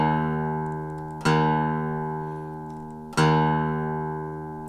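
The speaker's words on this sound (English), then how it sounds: "So your low E string should sound like this." A single electric guitar low E string tuned down a half step to E-flat is plucked twice, each note ringing out and slowly decaying, clear and alone.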